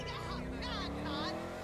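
A Baller ST SUV accelerates in GTA 5 Online, its engine rising in repeated revving sweeps under steady road noise.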